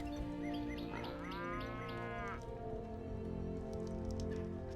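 Cows moo in the video game Stonehearth: a single drawn-out moo rises over a steady patter of rain and a low ambient hum, with no talking.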